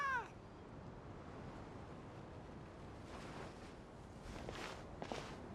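A cat meows once in Genshin Impact, a short rising call at the very start, followed by soft ambient game background with faint footsteps and light rustling.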